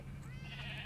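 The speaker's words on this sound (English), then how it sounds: "Here are my sheep." A dyed Minecraft sheep gives a short, wavering bleat over a faint background hum.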